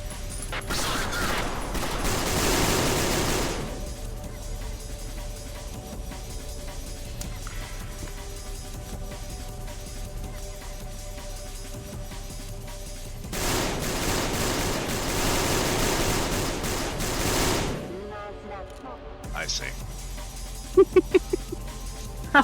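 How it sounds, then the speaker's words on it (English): Sustained bursts of automatic gunfire ring out in the game Peripeteia as enemies empty whole magazines, two long rattling volleys several seconds apart separated by quieter stretches, with a few sharp single cracks near the end. "I was listening to them just firing off entire magazines"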